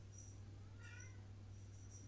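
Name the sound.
pet cat Bob meowing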